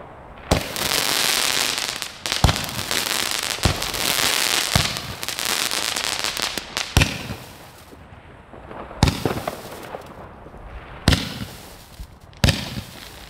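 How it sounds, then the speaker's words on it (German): An Aldi Eruption cake battery of consumer fireworks fires a run of loud, close shots. Bursts and crackling fill the first half, then single sharp bangs come at intervals after brief quieter gaps. "wir machen jetzt erstmal die Eruption Feuertopfbatterie"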